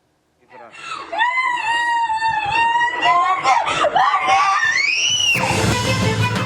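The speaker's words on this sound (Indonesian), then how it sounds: "Keluarga berusaha menenangkan korban yang berusia 12 tahun, namun korban terus menjerit ketakutan." A 12-year-old girl screams in fear, trauma-stricken after an assault in Kendari, Southeast Sulawesi; her high, wavering shrieks rise and fall continuously over several seconds, loud and close, with family voices murmuring around her as they try to calm her.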